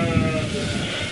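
A sheep gives one short, close, loud bleat during a jumping training run, set against a noisy outdoor background.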